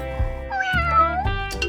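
A cartoon cat lets out a loud, close, drawn-out meow with a rising and falling pitch, followed by a shorter second cry.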